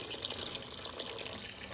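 A bright, steady splash of water pours into a pot of grated macabo sauce with meat, a close, continuous hiss and patter that runs without a break and with no talking.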